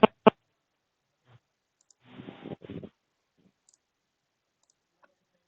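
Two sharp, close mouse clicks at the start, clicking Finish in the VS Code installer, followed by soft faint rustling and near silence.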